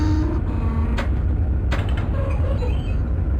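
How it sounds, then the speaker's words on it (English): A passenger train in the OpenRails simulator pulls away on the London and South East Ramsgate route, its wheel flanges squealing and creaking over a heavy low rumble. Two sharp metallic squeaks stand out against the steady mechanical noise. "I love the squeak of the flanges as we depart"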